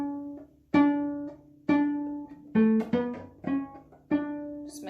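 Bowed string instrument sounding the note D with the fourth finger on the A string, several separate sustained bow strokes of the same pitch in a steady rhythm, played close and clear with no talking.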